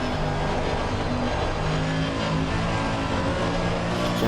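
GT3 race car engine in Assetto Corsa Competizione at Paul Ricard, Blancpain 2015 round, a steady loud in-car engine drone with shifting pitch, continuous with no pauses.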